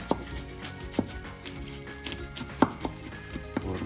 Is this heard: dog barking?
no